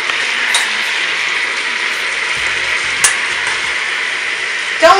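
Sauce simmering and sizzling in a pan while cooking Filipino food, a steady close frying hiss throughout, with a faint clatter near the end.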